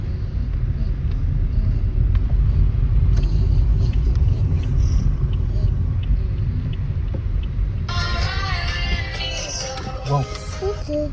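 A motorized tricycle rumbles close behind on a street, its engine a steady low drone. Voices and other traffic join it near the end.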